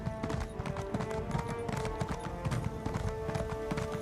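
A horse ridden across desert sand in Elder Scrolls Online, its hooves beating a quick, steady clip-clop rhythm throughout, close and moderately loud over a faint droning tone.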